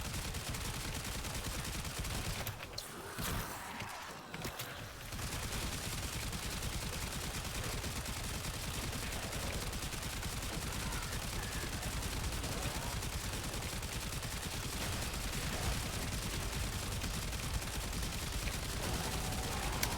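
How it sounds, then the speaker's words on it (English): Continuous rapid gunfire from a secondary weapon with infinite fire in the video game Warframe, a dense unbroken stream of shots across the whole span, with a brief dip in intensity early on. "Secondary weapon with infinite fire."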